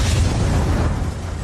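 Deep, loud, sustained volcanic explosion boom from the 1902 Mount Pelée eruption, rumbling heavily throughout with no voices.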